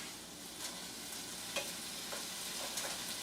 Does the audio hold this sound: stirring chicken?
yes